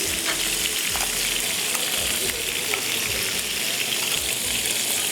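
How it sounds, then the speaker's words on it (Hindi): Tomato paste fries in a hot pan for a pizza cutlet recipe, a steady dense sizzle and crackle that stays loud and even throughout, with no voices over it. "इसमें मैं ये डालूँगी टमाटर पेस्ट"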